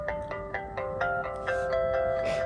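A pink Motorola Razr flip phone plays its startup melody as it turns on, a clear run of bright electronic tones stepping upward, each note ringing on, close and alone.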